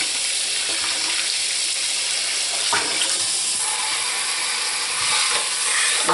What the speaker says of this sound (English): if I can, get some warm water